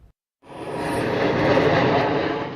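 A large research plane flying low, about 1,000 feet overhead, its engine roar rising quickly out of quiet into a loud, broad, steady rush that swells and holds, with no talking.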